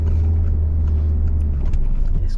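A driving-lesson car in second gear rolls along with a steady, close, low engine drone that holds fairly even throughout, with no voices over it.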